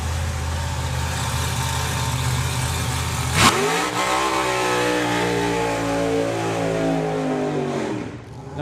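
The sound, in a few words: drag racing car launching down the strip, Lucky Devil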